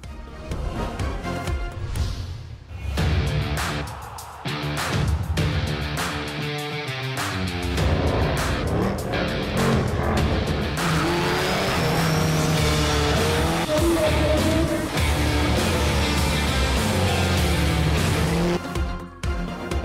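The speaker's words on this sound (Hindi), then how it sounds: "किसी ने बर्क रफ्तार गाड़ी चलाई तो किसी ने कार ड्रिफ्टिंग के फन का मुजाहिरा किया" Racing cars roar and accelerate at a car racing festival on an Islamabad parade ground, with loud revving engines, squealing tyres and skidding from drifting over a long, continuous stretch.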